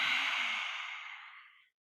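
A single long, forceful lion's breath exhale during a yoga session, a breathy open-mouthed rush of air that fades out after about a second and a half, followed by silence.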